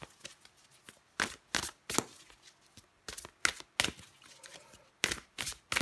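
Tarot cards handled and drawn from a deck, a series of crisp close slaps and flicks in irregular bursts, fairly quiet.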